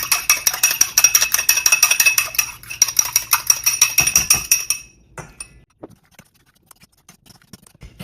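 Egg being beaten in a bowl while making a sweet and spicy apricot pork steak stir fry: quick, steady clinking strokes run for several seconds, then stop, followed by a few scattered light knocks.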